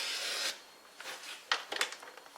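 A paper trimmer blade slides across cardstock, a soft rasping swipe followed by a few short scraping strokes and light clicks, close and fairly quiet.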